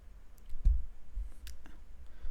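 Mouse clicks while using PowerPoint, a few faint, short taps spaced irregularly over quiet background.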